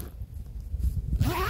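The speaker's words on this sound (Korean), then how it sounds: "그다음 측면에는 이렇게 지퍼가 있어요." A two-way side zipper on outdoor trousers is pulled open in a short, close scratchy run. A brighter rasp follows at the end, with no voices.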